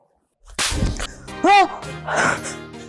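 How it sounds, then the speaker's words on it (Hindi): A single sharp slap lands near the start, followed by a short gasp and voiced reactions in a domestic drama scene. "अम्मा मुझे थप्पड़ क्यों मारा"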